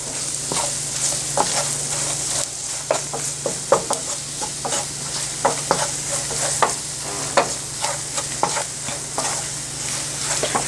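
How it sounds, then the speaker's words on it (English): Flour being stirred into hot sausage grease in a pan gives a steady sizzle with repeated scraping, clacking stirs at an uneven rhythm, close and fairly loud with no voices. "you want to mix the flour in, making sure it gets all mixed up with the grease to where there's no lumps of flour"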